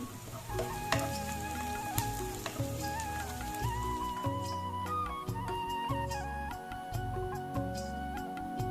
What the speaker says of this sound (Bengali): এক পাশে মাংসটা রান্না হচ্ছে আরেক পাশে বেরেস্তা ভেজে নিচ্ছি